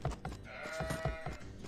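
A few short sheep bleats from the real-time strategy game Age of Empires, faint and close together over a soft game background.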